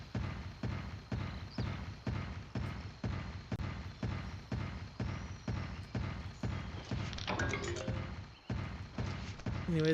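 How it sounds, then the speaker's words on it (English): Heavy, slow footsteps of the Glavenus monster in Monster Hunter Stories, a steady run of clanking metallic thuds about every half second, loud and close, with a brief scrape and rumble near the end. "He sounds like a clanking of metal."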